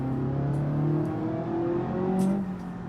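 A 1.5 litre rally car on sport tyres in BeamNG holds a steady engine drone with slowly rising and falling pitch as it accelerates, loud and close, with a few brief clicks on top.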